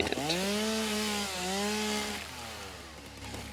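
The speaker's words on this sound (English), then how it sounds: "I think maybe I will go ahead and equip the chainsaw" A chainsaw in the video game Satisfactory whines and revs close up with a steady droning motor pitch that dips and rises again, and no one talks over it.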